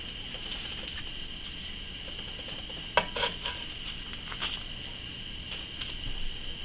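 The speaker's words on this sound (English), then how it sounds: "I'm going to flip these and see how it looks." Homemade English muffins turned over in a pan, heard as a few close metallic clinks and light scrapes of a utensil over a steady faint sizzle and hum.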